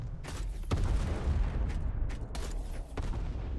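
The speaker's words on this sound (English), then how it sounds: "Flak gun is pretty good for clearing mines. It has a explosion radius" Flak gun bursts from a spacecraft in the Everspace 2 space shooter blow up mines, a few sharp cracking explosions over a low rumbling background at moderate volume.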